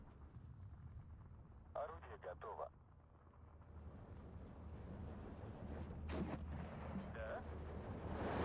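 An anti-tank gun fires in the video game Steel Division 2. Dull booming reports, some of them distant, sound over a steady rumble of battle, with a few sharper cracks near the end.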